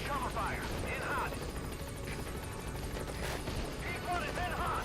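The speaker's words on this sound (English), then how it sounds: "Support helicopter has arrived." A support helicopter in Metal Gear Solid V keeps up a continuous rotor drone while arriving, with gunfire-like bursts and game voices layered over the steady wash.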